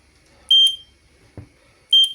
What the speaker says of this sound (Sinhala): දැන් මේකේ එලාම් එක පොඩි ප්‍රමාණයක් අපිට එනවා වදිනවා